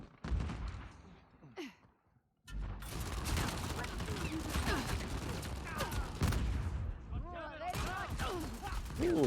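Gunfire in an Uncharted multiplayer match: bursts of shots and clattering weapon mechanisms under excited talking, with a brief near-silent gap early before the firefight resumes densely.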